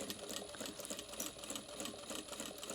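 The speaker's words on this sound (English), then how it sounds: "I'm just going to sew up nice and close to that edge" A sewing machine stitches and back stitches along the edge of a pleated bag, a steady rapid whirring chatter running continuously, close and fairly quiet.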